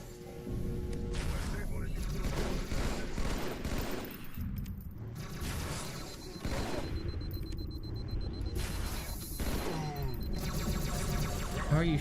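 Rapid bursts of gunfire and explosions in the video game Halo 2 on Legendary difficulty, dense and continuous across the whole stretch, with speech mixed in among the shots.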